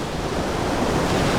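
Ocean waves break steadily on a beach where the coast is protected by concrete and hard structures, giving a loud, continuous broadband wash with no pauses or voices.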